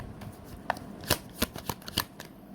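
Tarot cards are shuffled by hand, giving a series of crisp riffling slaps and soft papery flutters in an uneven rhythm. The sound is close and moderately loud, with no talking.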